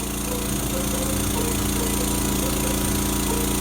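Lawn mower engine droning loudly and continuously, a close, steady rough motor hum with no breaks.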